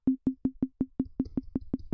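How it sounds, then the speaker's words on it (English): Synthesized sine wave shaped into a plucky, tom-like percussive hit by lowering decay and sustain, repeating about eleven times in an even quick rhythm, each note a sharp attack with fast fade, fairly quiet, no talk. "we already have a plucky sine wave, almost like a little, it's also like some type of, minimalist tom"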